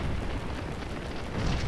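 Artillery explosions in the Scourge of War video game, a dense, heavy rumble of booms that stays loud and steady for a brief moment, with no talking.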